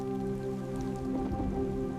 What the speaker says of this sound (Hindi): घनघोर वर्षा होने लगती है।